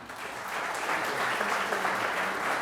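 Steady applause from an audience at an Independence Day salute event, sustained and full, rising slightly in the opening moment and holding at an even level with no talking over it.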